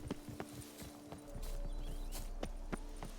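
Trudging boar footsteps in The Witcher 3, a steady run of soft hoof thuds at walking pace, fairly close, over a low outdoor ambience that thickens partway through.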